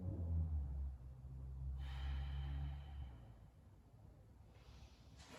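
Slow breaths in and out during a calm standing yoga session, soft and close, with a long airy exhale drifting into quieter pauses and no talking.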